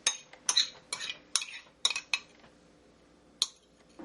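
Shrimp dipping sauce going into a serving bowl: a series of sharp clinks and scrapes of a utensil against the dish, close up, spaced irregularly and then trailing off.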